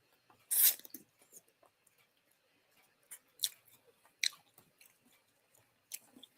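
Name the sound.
eating spicy sour pickles with peppermint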